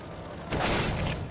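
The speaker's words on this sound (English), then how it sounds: "Oh, nice wall bang." A single sharp gunshot fired through a wall in a CS:GO match between Astralis and Liquid bursts out about halfway through as a loud, broad crack with a short rumbling tail over busy game noise.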